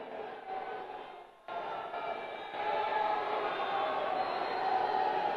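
A huge crowd gathered at a political rally roars steadily, a broad, dense cheering wash that briefly dips and then swells louder and holds, heard from within the gathering.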